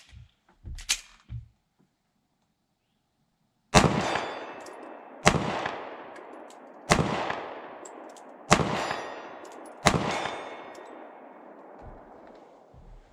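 Five sharp, loud pistol shots from a Sig P365-XMACRO, each followed by a ringing clang as the bullet strikes a steel plate at 40 yards, spaced about a second and a half apart outdoors after a few brief faint knocks.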